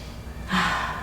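A single deep breath, drawn while holding a yoga plank, swells in about halfway through and stays close and airy to the end, with no talk over it.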